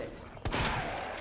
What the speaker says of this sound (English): Shotgun him.